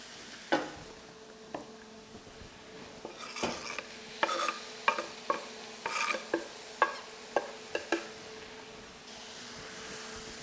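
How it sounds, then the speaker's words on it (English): Rehydrated mushrooms go into a pan with a little added oil and sizzle steadily, while a utensil scrapes and stirs and taps against the pan in a string of sharp clinks over a soft frying hiss. "I'm going to add these rehydrated mushrooms"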